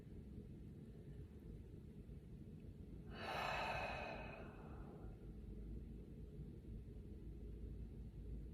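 A long, slow, deep breath exhaled during a relaxing meditation, a single broad airy rush swelling and fading over about two seconds against a quiet low background hum.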